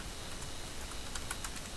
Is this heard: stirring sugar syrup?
no